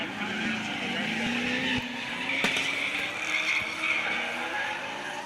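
Two Nissan R32 drift cars run in tandem at a drift event, engines droning continuously with a rising and falling pitch and tires squealing over the top, loud and steady throughout.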